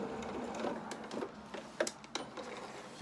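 A domestic sewing machine stitching fabric around a curve on a small doll's sailing anorak, then reversing, giving a close mechanical whirr with several sharp clicks and thumps as it stops and changes direction.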